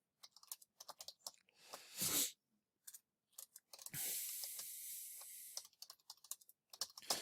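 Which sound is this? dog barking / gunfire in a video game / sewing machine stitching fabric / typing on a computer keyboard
typing on a computer keyboard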